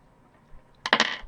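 Three dice for a tabletop role-playing game tumble onto a hard surface, a short close clatter of several bouncing knocks that settles quickly after a near-silent lead-in.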